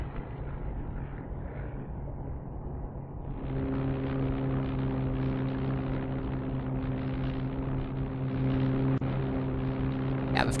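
A propeller airliner's engines drone in a cutscene from the business-simulation game Industry Giant 2, starting with a softer hum and swelling after a few seconds into a steady, loud multi-tone engine whine that holds to the end.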